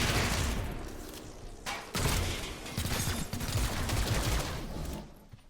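Gunfire in the video game XCOM: Chimera Squad: dense, rapid bursts of automatic weapon fire and booming shots roll continuously at high volume for several seconds, with a brief dip and mechanical clatter before the barrage resumes and fades.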